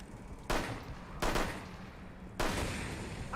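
Gunfire in the video game Rainbow Six: Extraction, three sharp separate bursts spaced about a second apart, each trailing off, moderately loud with no talk.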